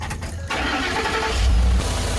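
A Ford Coyote V8 in a truck with a 6R80 transmission and 88,000 miles cranks briefly, then fires and settles into a loud, steady, rumbling idle, close by with no talking.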